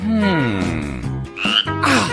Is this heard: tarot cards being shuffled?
no